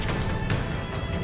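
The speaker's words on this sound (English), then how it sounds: "and then he punches the corpse" In Darkest Dungeon, a heavy punch lands on a corpse, a dense, loud crash-like impact layered over a busy game soundscape.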